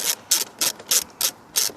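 A ratchet loosening an airbox bolt on a 2002–2006 Lexus ES300 clicks in six even, crisp bursts, close and loud, with brief pauses between strokes.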